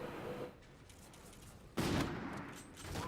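Gunfire from jumping shots in a first-person shooter video game comes as a loud, sharp burst of shooting, with quieter shots and game noise before and after it.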